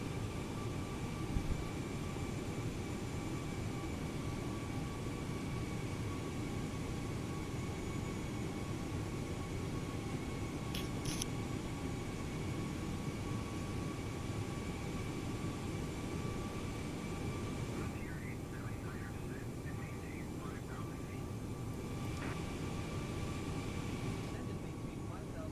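Airbus A320neo engines in Microsoft Flight Simulator drone steadily at reduced throttle, a constant broadband roar with tonal whine that persists unchanged throughout.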